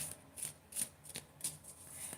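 Tarot cards being shuffled by hand in soft, quiet riffling bursts, roughly five or six brief flutters spaced through a few seconds, close and gentle with no talking.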